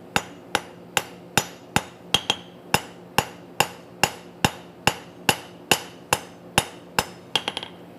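A rounding hammer strikes hot metal during blacksmith forging, about sixteen sharp, evenly spaced ringing blows, then a quick flurry of lighter taps at the end. The strikes are close and loud, with no talk.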